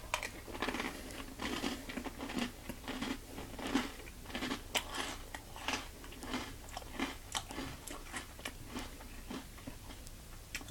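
Close, steady crunching and chewing of British Kellogg's Froot Loops cereal, with brittle bites and grinding chews repeating in an irregular rhythm throughout, no talking.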